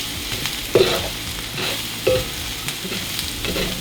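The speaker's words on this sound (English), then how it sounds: "So now I'm gonna go ahead and add in the peppers." Peppers tossed into a hot frying pan for a vegan mac and cheese with roasted corn and spicy queso, stirred with a steady sizzle and a few sharp scraping clacks of the utensil against the pan, close and continuous.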